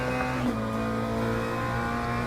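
A McLaren race car in the Assetto Corsa Competizione sim roars with a loud, sustained engine note, holding high revs with slight pitch shifts and no voices over it.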